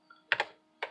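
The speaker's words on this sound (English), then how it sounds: "So you just type in the file that you want to load." Typing a filename on an Osborne Executive computer keyboard, two pairs of crisp close keystrokes in quick succession within a second.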